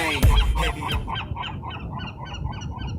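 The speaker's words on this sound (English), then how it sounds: "Goddamn seagulls." Seagulls call repeatedly close by, honking squawks in a quick uneven series that fade into softer, more distant cries.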